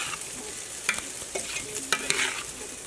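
Cabbage and peppers being stirred in an oiled skillet, a steady soft sizzle with a few sharper scraping clicks of the utensil, close by and with no voices.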